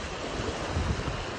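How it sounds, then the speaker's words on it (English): Sea water surges and washes steadily, a broad rushing wash of surf mixed with wind noise, close and fairly loud without a break. "The sun and the sea and the sounds of the water"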